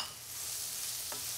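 Bell peppers, zucchini and chopped artichoke hearts sizzle steadily in a hot pan, a broad continuous frying hiss with a brief scrape of stirring near the end, close and fairly loud with no voices.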